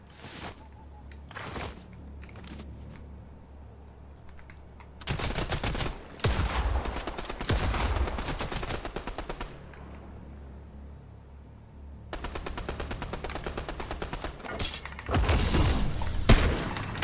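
Video game gunfire while shooting an enemy, bursts of rapid automatic shots in two long stretches with a few scattered single shots before them, loud and continuous, over steady background noise.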